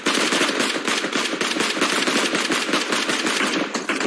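Sustained automatic gunfire in a PUBG Mobile esports match, a loud, dense stream of rapid shots from several weapons with no pause across the whole stretch.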